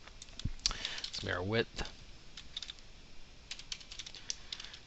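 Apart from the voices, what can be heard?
typing on a computer keyboard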